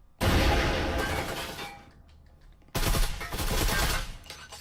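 Loud sustained automatic gunfire in the VR shooter Breachers, shots fired through walls, one long burst, a brief pause, then a second heavy burst trailing off.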